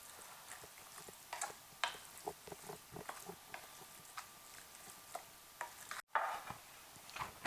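Ground meat for shepherd's pie browns in a pan, giving a faint, steady sizzle broken by soft irregular ticks and stirring clicks, with one brief dropout and a louder crackle near the end.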